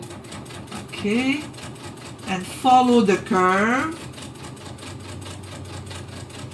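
A home sewing machine stitches a curved seam in improv quilting, its motor whirring in short bursts under a voice speaking throughout.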